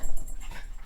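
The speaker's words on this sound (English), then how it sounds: "so the dog has to greet her" A pet dog whimpers and pants excitedly at close range while greeting a daughter arriving home, in a brief, continuous, loud burst of eager noise.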